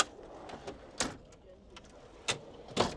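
Several sharp door slams and latch clunks from an Ineos Grenadier overland rig, spaced irregularly over a few seconds, fairly close with faint background murmur between them.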